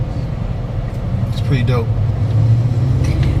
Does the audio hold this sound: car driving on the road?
yes